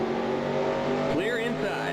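Race truck in NASCAR Racing 2003 sweeping past at Milwaukee during a 1995 SuperTruck Series race, a steady engine drone with a rising then falling pitch as it goes by, under a commentator's voice.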